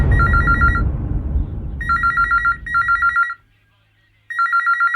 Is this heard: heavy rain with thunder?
no